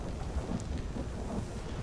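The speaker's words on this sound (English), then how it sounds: "What's all that lightning stuff going on over there?" Thunder from a lightning storm in The Elder Scrolls Online rolls as a low, steady rumble under faint rain-like hiss for a couple of seconds, with no voices.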